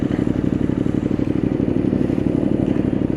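A trail motorcycle idles steadily after its faulty side-stand switch wire was cut and hotwired, a close, continuous low rumble with a fast, even pulsing throughout.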